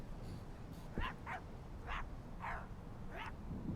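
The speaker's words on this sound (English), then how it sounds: "I like dogs. Can you just bark at me?" Dogs in the video game My Friendly Neighborhood give a short series of yips and barks, five or so evenly spaced calls, fairly quiet over a steady low background rumble.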